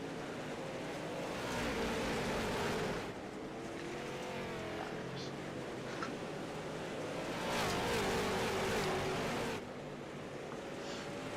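Race truck engines roar together as a double-wide field rolls off at the start in iRacing, a dense, steady drone that swells louder around the middle and again near the end.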